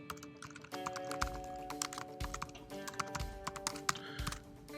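Computer keyboard typing of a short name: quick, close, irregular key clicks in bursts over a low steady hum, with no talking.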